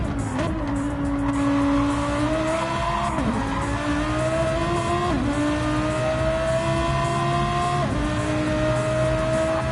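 A Lamborghini race car on a flying lap in a racing video game, its engine screaming at high revs and dipping briefly at each gear change and corner, loud and steady with faint tire squeal and no talking.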